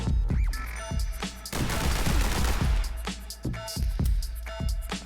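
Rapid pistol gunfire from The Hong Kong Massacre video game, a dense, loud barrage of shots with repeated cracking bursts, some overlapping in quick flurries, plus a heavier sustained volley near the middle.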